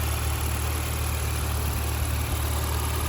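A Porsche Macan engine idles after high-pressure fuel pump replacement and valve cleaning, a steady low mechanical drone with faint vibration, even and continuous, with nothing else over it.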